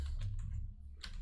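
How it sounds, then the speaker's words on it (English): Keys clicking on a Bluetooth keyboard that is acting up: a quick handful of faint, close keystrokes in an otherwise quiet room. "Bluetooth keyboard seems to be acting up"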